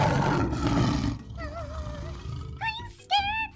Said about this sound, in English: Fizzy, look! It's a lion!